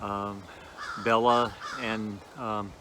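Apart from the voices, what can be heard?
crows cawing outside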